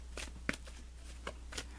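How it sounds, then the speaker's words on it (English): Tarot cards being shuffled and drawn, a handful of soft, close papery flicks and slaps spaced irregularly over a low steady hum. "Let me draw you an additional guidance card."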